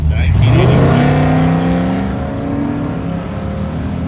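A drag race car at Hot Rod Drag Week launches hard, its engine roaring loud and close with rising harmonics as it accelerates away, engine note sweeping up then trailing off, with voices talking over it.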